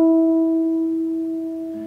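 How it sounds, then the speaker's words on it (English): A single guitar harmonic at the 5th fret, a pure bell-like tone that starts sharply and rings steadily, slowly fading over two seconds, close and alone. "to play a harmonic, which sounds like this"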